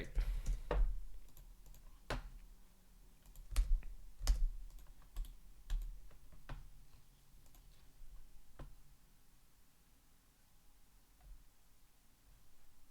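Computer keyboard typing during a coding screencast, with scattered sharp key clicks in short irregular bursts, moderately close and fairly faint, thinning out toward the end.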